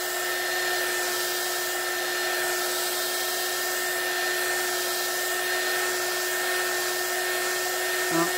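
A dryer blows steadily over an alcohol ink artwork, a constant loud whirring hum with a fixed high whine, ending with a brief knock near the finish.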